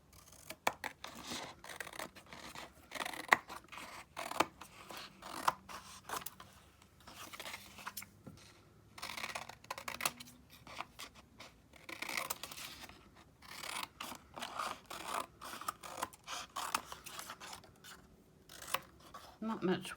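Scissors cutting during a craft session, irregular bursts of snipping and rustling that come and go over twenty seconds, with a person talking now and then.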